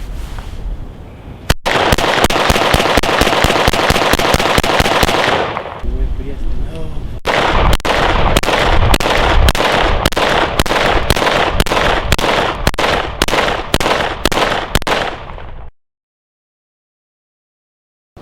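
Rapid handgun shots fired one-handed with a weapon-mounted light, dozens of sharp, evenly spaced reports in two long strings split by a brief pause, loud and close, ending abruptly in silence.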